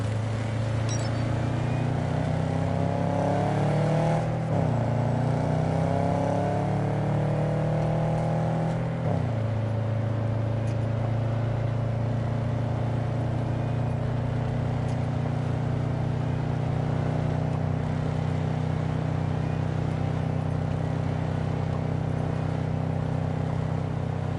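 Car engine idling and humming steadily in the video game Cyberpunk 2077, with a brief rev and pitch shift early on before it settles into a constant, loud drone with no talking.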